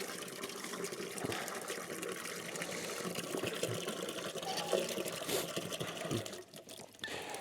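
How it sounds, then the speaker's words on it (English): Water runs steadily into a watering can being filled for chickens, a continuous rushing pour with faint gurgling and a few small knocks, fairly quiet and unbroken until it eases off near the end. "we're filling up a bucket, or yeah, it's a watering can, but bucket, and getting some water for the chickens"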